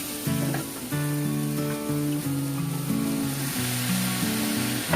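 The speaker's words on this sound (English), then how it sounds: "So saute until slightly brown. And put back the chicken." Chicken sizzles and fries in a pan while being sautéed until lightly browned, a steady hiss running throughout beneath a clear melodic music track.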